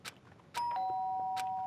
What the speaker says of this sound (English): did I hear the doorbell?